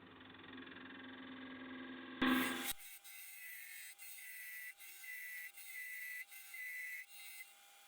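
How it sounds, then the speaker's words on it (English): Wood lathe parting off the lid of a small turned wooden box, a steady whirring cut that shifts abruptly partway through into a thinner scraping hiss with repeated brief dips as the tool works. "Then to part off the lid from the base."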